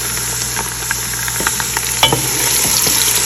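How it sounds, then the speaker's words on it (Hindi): Onions sizzle loudly as they fry in spiced masala for a chicken curry, with a steady hiss and scattered scraping from stirring up close. "बिस्मिल्लाह करते हैं और प्याज़ों को करते हैं इसमें शामिल।"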